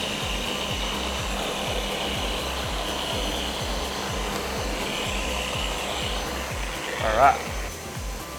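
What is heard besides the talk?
Flex power sander doing a final smoothing pass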